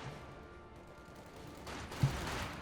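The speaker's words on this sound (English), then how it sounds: "MG, flamethrower unit, and mortar teams opening fire." Machine gun fire rattles in a Company of Heroes 2 battle, a low steady rumble of combat building into a sharp burst near the end, fairly distant and with no talking.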